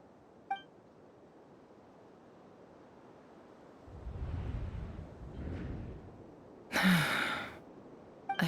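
A Genshin Impact character gives a breathy gasp that rises and falls at mid-volume over a quiet game background, with a brief chime near the start and a louder bright swoosh near the end.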